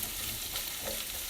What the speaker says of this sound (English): Garlic in now. I'm also going to add the onion. I'm going to come in and mix it around a little bit.